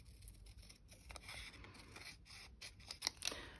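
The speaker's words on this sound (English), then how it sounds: "I'm actually going to chop that bit off too because I've got another flap there now" Scissors snipping through paper and card flaps while trimming happy mail, a run of close, quiet cuts and scrapes that ends in two sharper snips.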